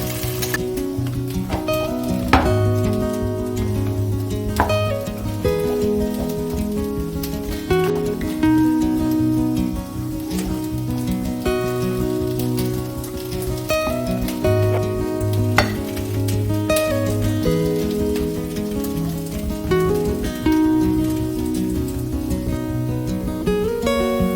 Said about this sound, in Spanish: a que se acaben de freír un poquito con la mantequilla hasta que estén completamente suaves.